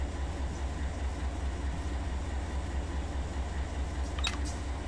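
Heavy intermodal freight train climbing the Talbotton grade in Run 8 Train Simulator, a steady rumbling drone with dense low engine throb and a brief high squeal near the end, without talk.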